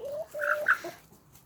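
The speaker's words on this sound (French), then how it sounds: "Oh, regarde, la vieille poule." An old hen clucks once or twice close by, a short throaty call rising and falling, heard on its own without talk.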